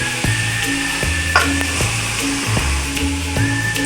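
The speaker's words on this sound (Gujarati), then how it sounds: "તો હવે આપણે ધીમે તાપે શેકવાનું છે" Mohanthal mixture roasting in hot ghee over a low flame, a steady close sizzle with repeated soft scraping stirs across the pan.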